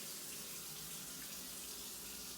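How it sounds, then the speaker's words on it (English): Hot water runs steadily from a tap in a home with an Eco Smart 27 tankless heater, a constant faint hiss with no pauses and no voices. "when we turn on the hot water"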